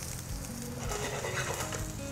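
Carrots and raw asparagus sauté in olive oil in a frying pan, giving a steady, close sizzle with faint stirring clatter and no talking.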